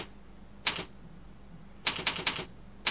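Keys tapped on a computer keyboard while entering commands into a DOS command window on a PC, a short keystroke near the start and then a quick run of about five clicks, clear and close over a low steady hum.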